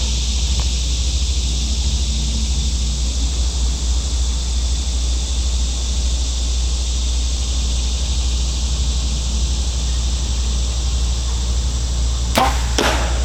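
A shot arrow fitted with a mechanical broadhead strikes a target in two quick sharp impacts near the end of a long stretch of loud, steady hiss and rumble.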